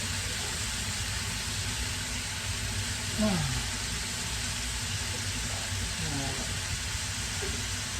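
Chopped peppers and onions go into a hot pan and sizzle in a steady, dense hiss that runs the whole time, with faint murmurs of a voice underneath.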